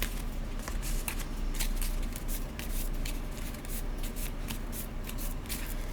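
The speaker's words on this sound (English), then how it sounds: "I draw 5 cards" Cards drawn by hand in the Paperback Adventures solo word-building card game; steady close papery sliding and flicking with quick snapping clicks, continuous and fairly loud, with no talking.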